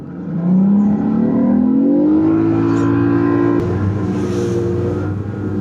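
Fishing boat outboard motor pushed to full speed along a weedline, a loud close steady drone that climbs in pitch as it accelerates, then holds a sustained high whine, with no voices.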